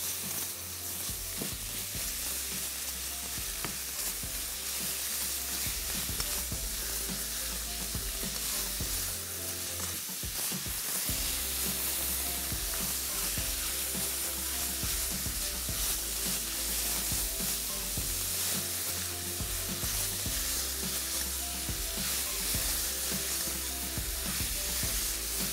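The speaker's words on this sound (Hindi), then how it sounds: "वो कीमा इसमें हमने शामिल करके प्याज, अदरक, लहसुन के साथ खूब अच्छी तरीके से इसकी भुनाई करनी है" Minced meat frying with onion, ginger and garlic, a loud, dense sizzle that runs steadily throughout, with stirring and scraping heard over it, and no voices.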